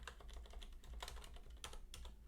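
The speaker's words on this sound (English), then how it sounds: "how are you typing so quickly? I just use the native VS Code shortcuts on my keyboard" Rapid typing on a computer keyboard while coding in VS Code, a dense quiet stream of keystroke clicks with a few sharper, louder taps, steady throughout with no talking.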